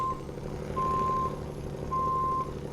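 Truck in the SnowRunner video game reversing through British Columbia terrain, with three steady electronic backup beeps sounding at an even rhythm over a constant low engine rumble.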